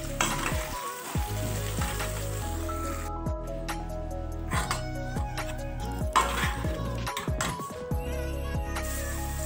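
Onions frying in a pan with garlic-ginger paste for a spiced tomato dish, giving a steady loud sizzle with bursts of stirring and squishing, close up and with no one talking.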